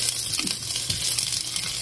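Garlic sizzles in a hot pan as it goes in, a steady bright frying hiss with a few soft scrapes and stirs mixed in, close by and with no talking.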